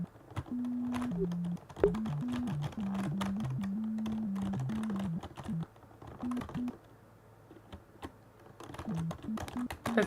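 Computer keyboard typing, a steady patter of clicks through most of the stretch, heard beneath a sustained droning tone in a roleplay setting.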